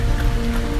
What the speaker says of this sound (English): It's 44 degrees and it's nice and rainy outside.